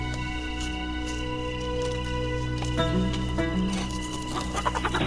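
Chickens cluck a few times inside a coop, close but partly buried under a steady background hum and scattered noise. The clucking rises toward the end.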